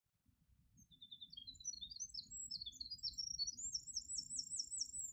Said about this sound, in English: a clip of a winter wren singing that I recently captured at Round Top Park in Athens